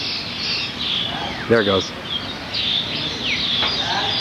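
A bird calls with bright, shrill chirps over a steady buzzing outdoor wash of insects or birdsong, while someone speaks briefly in the middle.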